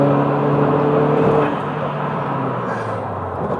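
A Renault Twingo 1.2T GT hatchback with wider front wheels drives through a corner, a steady engine hum and road roar heard from inside, loud and continuous, easing slightly partway through.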